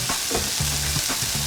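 Chicken hearts and livers are stirred in a sizzling frying pan, a steady frying hiss broken by repeated scraping strokes of the spoon, close up with no talking.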